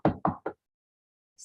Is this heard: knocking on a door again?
yes